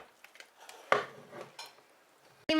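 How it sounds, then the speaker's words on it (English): Eggs beaten in a bowl for a breadmaker cake, heard as irregular clinks and scrapes of a utensil against the bowl, close and moderately loud, ending in a sharp knock, no talk. "I'll beat the eggs"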